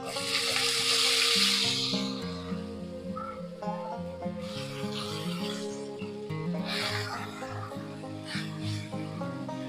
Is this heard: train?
no